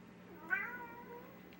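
A house cat lets out a single drawn-out meow, fairly close but soft, with a quiet room hum underneath and no talking.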